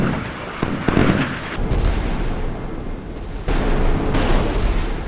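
Missile interception explosions in the naval combat game Sea Power: loud, dense booms and crackling blasts rolling over each other, with a sharp burst near the start and another heavy wave later.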